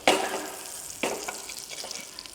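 Chicken breast pan-fries in a butter sauce, a steady close sizzle and crackle with a few sharper spits and stirring scrapes, fairly loud throughout.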